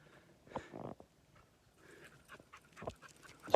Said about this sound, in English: Apart from Ruby's panting.